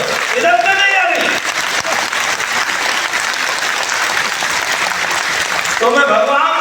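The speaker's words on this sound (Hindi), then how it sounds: "जब संभ्रम हो जाता ताली जोर से बजाओ" An audience at an awards ceremony applauds loudly and continuously, a dense wash of clapping from a full hall, with a voice heard briefly at the start and end.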